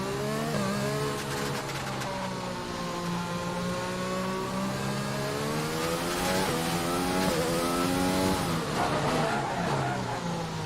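An F1 car in the F1 2020 racing game snarls at high revs, its engine pitch sweeping up and down through gear changes while brief tyre lockup squeals cut in, loud and continuous with no talking.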